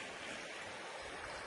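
Steady broadband rush of a stream at a hiking trail water crossing, a constant close wash of flowing water with no break and no voices.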